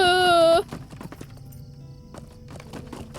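Horse hooves clip-clopping during a ride in the online game Lord of the Rings Online (LOTRO), a quick steady beat of hoof hits following a short loud tonal burst at the start, with game sounds underneath.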